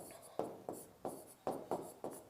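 Chalk or marker strokes on a board come in a regular series of short scratching bursts, about seven strokes roughly a third of a second apart. They are faint and close, with no talk over them.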